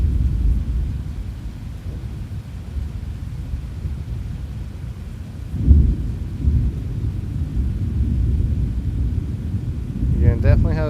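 Low, continuous rumbling of a thunderstorm in the Roblox storm-chasing game Twisted, with a brief swell of louder thunder midway and a voice speaking near the end.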